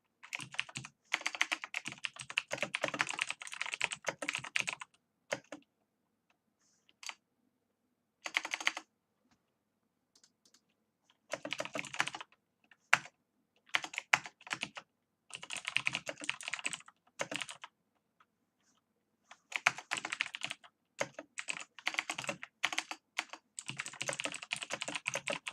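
Fingers type on a computer keyboard, bursts of quick clicking keystrokes separated by short silent pauses, close and fairly quiet, with no talking.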